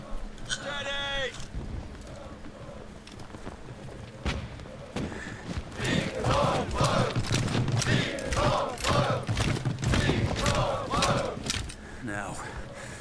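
Musket volleys in a Napoleonic-era battle scene from Sharpe, ragged crackling shots and thuds amid shouting soldiers, building in density through the middle and fading toward the end, with voices heard throughout.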